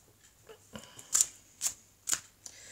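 Tarot cards being shuffled in a quiet room, three or four short crisp riffling bursts spaced about half a second apart, close and fairly loud against near silence.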